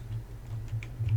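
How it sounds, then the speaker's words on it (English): A few soft, quick clicks from a computer keyboard key, such as the Enter key, tap out over a low steady hum, faint and close with no voices. "The Enter key will bring you to the next line."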